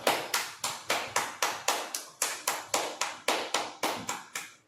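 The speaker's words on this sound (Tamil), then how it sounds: "சீக்கிரம் கை தட்டுண்டா." A steady run of about fifteen crisp, evenly spaced hand claps at a Tamil baby shower (valaikappu) ceremony, close and clear, several people keeping a brisk rhythm together with no talk over them.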